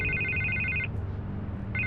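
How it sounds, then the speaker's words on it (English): An old-style telephone bell rings in the video game Batman The Telltale Series, a bright buzzing trill that cuts out briefly and starts again over a constant low background hum. "I can't get the phone to stop ringing."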